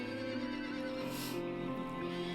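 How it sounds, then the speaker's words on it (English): Demonic horses in a stable in the Dracula Origin adventure game give a whinny amid steady low ambient drone, the neigh a brief, moderately loud burst near the middle. "Now, these are demonic horses, as you can see."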